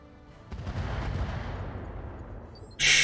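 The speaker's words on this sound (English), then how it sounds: "Goblin has a lot of machine gunning going for it" Sustained machine-gun fire from mechs in the RogueTech battle game, a dense continuous rattle that swells and holds for a couple of seconds, ending with a sudden loud bright burst.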